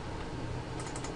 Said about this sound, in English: I'm holding down shift and double clicking the edge to select the edge loop